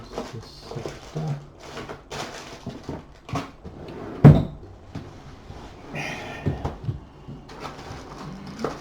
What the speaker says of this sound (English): Open that drawer.